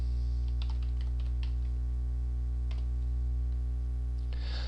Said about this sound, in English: we type a mapping name in the expression box and press Enter